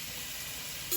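Food sizzles steadily in a pan on the stove, a soft even frying hiss with a brief light clink of a utensil near the end and no talking.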